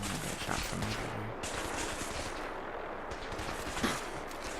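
Gunfire in Fallout 4, a steady dense barrage of shots throughout with a slightly louder burst near the end, loud and continuous with no talking.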